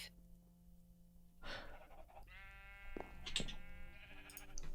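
Sheep bleating in Minecraft, several short wavering bleats over a quiet background hum, fairly faint and heard alone.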